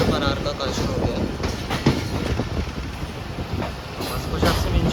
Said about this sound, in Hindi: और 26 डाउन बहाउद्दीन ज़फ़री एक्सप्रेस भी आ चुकी है।